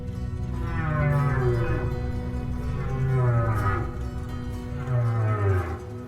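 Humpback whale song, slow mournful moaning calls that swoop downward in pitch, three long drawn-out cries with rich echoing overtones against a steady ocean hum.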